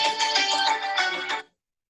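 A phone ringtone plays a quick repeating electronic melody for about a second and a half, loud and close, then cuts off abruptly into silence.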